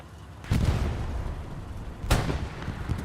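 Two sharp, heavy gunfire impacts strike a tank in the World War II shooter Hell Let Loose, one early and one later, each a loud boom over a low rumbling backdrop.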